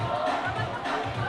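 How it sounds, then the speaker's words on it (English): Crowd at an under-18 girls' rugby match roaring and cheering in a dense, continuous wash, loud and close, with a commentator's voice riding over it. "The crowd is very much involved and energised"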